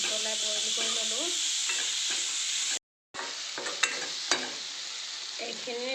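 Cut potato pieces with mushrooms sizzle steadily in a pan, with brief pauses and occasional clinks and scrapes of stirring against the pan, close and continuous.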